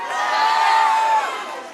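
A morning symposium audience cheers and shouts together, a loud sustained crowd roar with a high whoop riding on top, swelling and then easing off.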